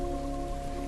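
Steady rain falls as an audiobook sound effect, a continuous close hiss of drops with a low rumbling undertone and faint steady tones, holding evenly for about a second with no voices.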